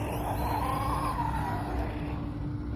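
An Arrma Outcast 4S V2 RC car drives nearby, its electric motor giving a steady whine that rises and falls in pitch over a rough rumble of tires on the ground.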